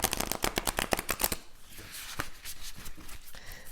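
A deck of Moonology oracle cards is shuffled by hand, giving a fast run of crisp, close riffling slaps for about a second and a half. Softer rustling and a single sharper card snap follow.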